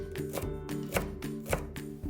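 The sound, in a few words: knife slicing leeks on a cutting board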